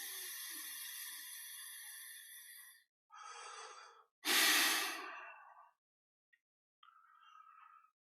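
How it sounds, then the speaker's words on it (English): Slow breaths out during meditation: a long soft exhale, then several shorter airy breaths, one louder and rougher, fading into quiet, close and with no talking. "Breathing out."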